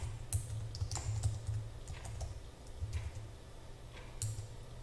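Keys clatter on a computer keyboard as a label is typed, in quick, uneven bursts of light close clicks with brief pauses over a faint steady hum.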